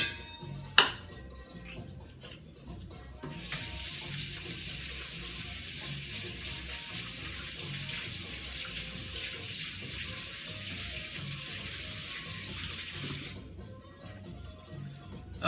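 Tap water runs steadily into a sink during hand washing, a broad continuous hiss holding from about three to thirteen seconds, with a sharp knock near the start and no talking.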